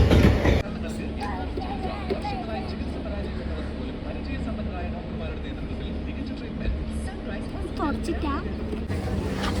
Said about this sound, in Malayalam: അടുത്ത ട്രെയിനും വന്നുകൊണ്ടിരിക്കുന്നതാണ്